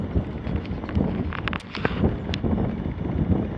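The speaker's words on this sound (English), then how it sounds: "northeasterly wind, or east-northeast wind, something like that" Steady wind gusts across a microphone outdoors on the south side of a house, a continuous rumbling buffet with faint rustling throughout, fairly quiet and with no voices.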